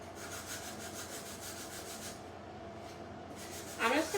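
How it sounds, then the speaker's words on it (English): Sandpaper rubs around the outer edges of a wooden 9x9 home decor frame in steady, soft back-and-forth rasping strokes, close and continuous, briefly pausing before a final scratchier stroke. "I'm just gonna go around, sand the outsides just a little bit"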